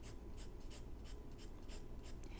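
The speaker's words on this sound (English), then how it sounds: "you let the pencil make the shape of the item" A hard 4H pencil strokes across paper in a quiet drawing lesson, a soft, rhythmic series of scratchy back-and-forth scribbles, close and faint, repeating about three times per second.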